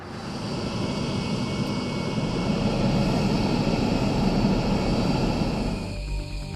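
A B-1B bomber's jet engines roar steadily at close range in a loud, continuous broadband rush that eases off slightly near the end, with no talking.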